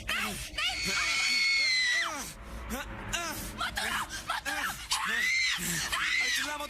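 A person screaming while climbing up a pipe, long sustained high-pitched shrieks repeating close and loud, mixed with shouting voices and frantic talk.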